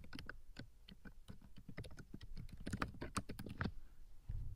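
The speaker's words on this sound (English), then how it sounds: "type in their first name, last name, and then their email address" Rapid, steady clicking of computer keyboard keys as names and an email address are entered into a form, close and dry, with irregular key strikes continuing for several seconds.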